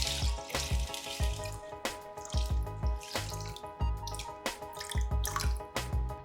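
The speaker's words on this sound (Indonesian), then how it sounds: "Kemudian cuci bersih. Selanjutnya rendam dengan secukupnya air." Tap water runs and splashes in a sink while ingredients for lepet are rinsed clean, with irregular drips, gurgles and sloshes close by, then left to soak.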